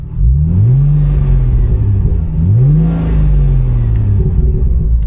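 A Plymouth Prowler's engine sits loud and close, rising twice into revs that swell and settle back to a throbbing idle, with no voices over it.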